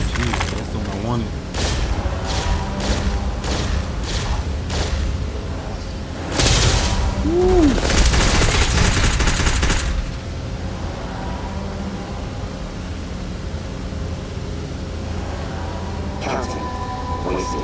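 Bursts of rapid gunfire and booming impacts from the Starfield video game, clustered in the first half with a loud sustained barrage around the middle, then fading to quieter game ambience.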